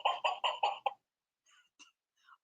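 A chicken lets out a rapid run of five agitated squawks, close and fairly loud, followed by a few softer, scattered clucks.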